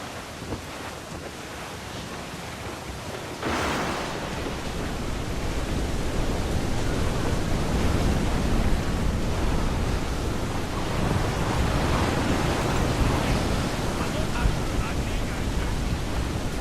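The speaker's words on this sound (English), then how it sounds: "Water spout, man! Stay wide!" Roaring water spout at sea in Assassin's Creed IV Black Flag, a steady broad rush of wind and surf that swells louder after a few seconds and holds, with faint voices under the storm.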